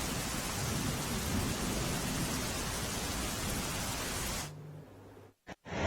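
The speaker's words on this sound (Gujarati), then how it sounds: "વલસાડ જિલ્લામાં ગત મોડી રાતથી વરસાદની શરૂઆત થઈ છે" Steady heavy monsoon rain in Valsad district, Gujarat, pours in a dense hiss, then cuts off abruptly near the end, leaving brief silence and a few short bursts.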